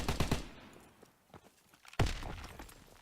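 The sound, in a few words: gunfire from an FG42 in a video game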